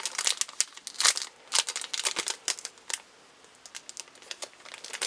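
A Yu-Gi-Oh! booster pack wrapper crinkles and tears open up close in a string of sharp, irregular foil crackles and rips, with brief pauses between bursts.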